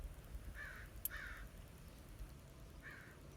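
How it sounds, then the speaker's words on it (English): Crows caw three times against a steady background hiss, the calls spaced apart, moderately distant and fairly faint. "The crows."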